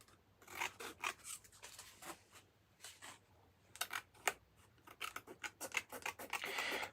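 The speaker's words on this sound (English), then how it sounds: "So I'm just trimming out the card." Scissors trimming card, a series of close, quiet snips and crisp cutting strokes in an irregular rhythm, growing busier and slightly louder toward the end.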